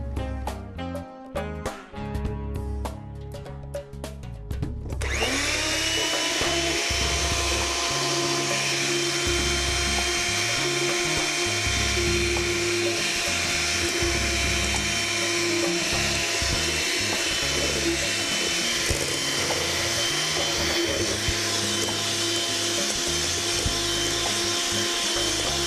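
A kitchen blender whirring steadily as mayonnaise is blended while canola oil is gradually added, preceded by a few seconds of rattling, stuttering pulses before a loud continuous motor drone that holds for over twenty seconds.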